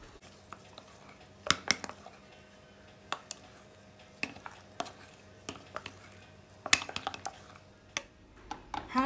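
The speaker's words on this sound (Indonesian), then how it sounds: "Diaduk-aduk terus sampai nanti agak dingin" Cassava mixture being stirred in a pan, with sharp utensil clicks and scrapes against the pan at an irregular rhythm, close and fairly quiet, with no talk.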